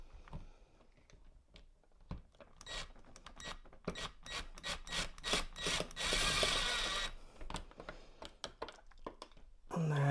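A screw being started by hand into the mounting of an Aqara U200 smart lock gives close, dry rasping and scraping bursts in an uneven rhythm, building to a dense grinding stretch before trailing off, with no talk.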